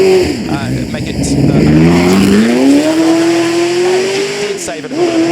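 A 1965 Ford GT40 Roadster with a 4.7-litre V8 races at the Goodwood Festival of Speed timed shootout, its engine loud and close as it climbs in pitch through the revs, briefly dips, then climbs again.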